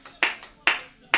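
Church congregation applauding in short bursts to acclaim Jesus, three sharp waves of clapping that each swell and fade, fairly close and moderately loud.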